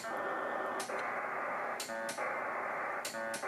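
SCS P4 Dragon DR-7800 modem receiving email over a radio link: steady dense digital data warble filling the band, broken by short bursty handshake chirps about every second, loud and continuous with no talking.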